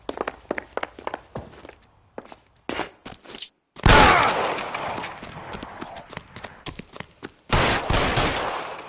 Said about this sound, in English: Shoot him. Shoot him, for God's sake!